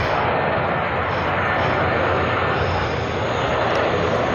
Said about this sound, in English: massive plane going over my head